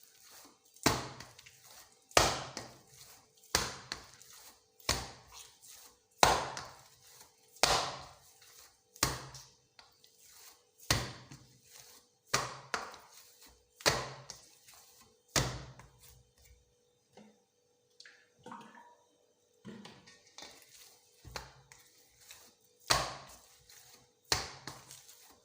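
Dough for homemade chocolate donuts, oiled and worked by hand, is slapped repeatedly against a surface, giving sharp, loud, close thwacks about every second with softer kneading sounds between them, and no talking.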